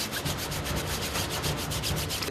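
A brush soaked in detergent scrubs mold off a surface at a water park, giving steady, rhythmic rasping strokes at close range with no talk.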